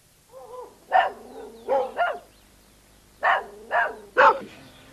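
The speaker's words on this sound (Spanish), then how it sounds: "En procura de cantos hice ladrar a todos los perros de la campaña." Dogs bark out in the countryside, letting off a series of five or six sharp, mid-pitched barks in uneven pairs. Faint whimpers come between them, and the barking sounds fairly close and clear.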